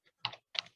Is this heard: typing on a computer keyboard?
yes